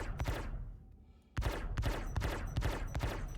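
Spaceship cannons firing in Star Citizen, a Zeus MK II CL during bounty hunting, in rapid sharp bursts. A brief volley is followed by a short lull, then a steady run of loud, evenly spaced shots.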